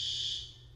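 A fire alarm in a building gives one loud, piercing, continuous tone that fades slightly toward the end of the short burst, with no voices.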